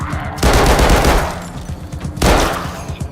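Automatic gunfire in the VR shooter Arizona Sunshine II, with two loud sustained bursts of rapid shots that each ring out and fade.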